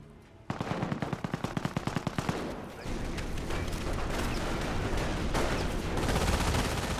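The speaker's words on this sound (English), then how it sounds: "M242 firing away." An M242 autocannon fires a rapid burst of evenly spaced heavy shots in a Company of Heroes battle, then gives way to a dense roar of continuous gunfire and explosions, loud and with no voices.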